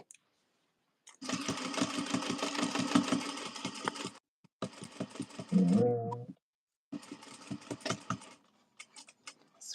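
Sewing machine running in bursts during a Pollywog pattern sew-along, loud steady mechanical whirring that stops and restarts three times, with a brief lower hum in one gap.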